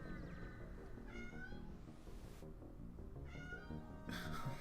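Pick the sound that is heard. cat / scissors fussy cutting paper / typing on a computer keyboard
cat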